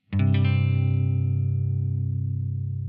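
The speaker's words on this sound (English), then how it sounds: "you basically just bar over the top on the G on the E string" A single distorted electric guitar chord strummed once, then sustaining with a thick, buzzing tone that slowly fades.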